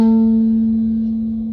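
Plucked on the G string at the second fret, one ukulele note sounds clean and close, holding a steady pitch with a gentle decay and no other sounds around it.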